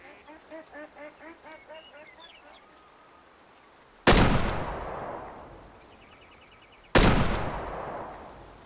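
Two loud, sharp shotgun blasts in the hunting video game Way of the Hunter, set in Nez Perce Valley, spaced about three seconds apart, each with a long decaying tail, after a run of quacking bird calls.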